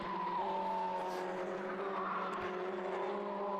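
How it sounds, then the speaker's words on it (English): Race cars at Oulton Park on a spring race day, tyres squealing through a sequence of corners, a sustained wavering screech with engine drone, heard from a distance trackside. "Still some tyre squeal as the drivers hustle right and left, and then right again, flick up the hill"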